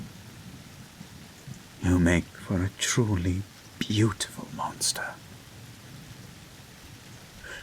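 A steady hiss of heavy rain with a low thunderstorm rumble runs throughout, while a voice whispers over the middle stretch.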